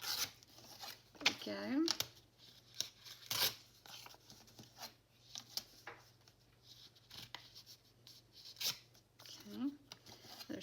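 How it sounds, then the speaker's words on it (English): A paper page is torn across by hand for a junk journal, giving a few quiet ripping and rustling bursts spread between brief soft-spoken words in a hushed indoor setting. "I think I'm going to tear just across the page here."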